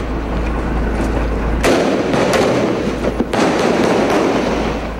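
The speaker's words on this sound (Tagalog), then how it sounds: "Nauwi sa umatikabong barilan ang sonic clearing operations ng tropa ng gobyerno laban sa mga miyembro ng grupong Maute kaninang hapon" Gunfire during a government troops' clearing operation against the Maute group in Marawi crackles as rapid distant pops and cracks over a constant low rumble, with one sharper burst partway through.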